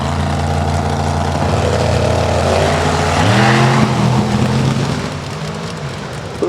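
Drag racing cars roar down the strip, a loud continuous engine drone with rising harmonic tones as they accelerate, then fading slightly as they pass into the distance.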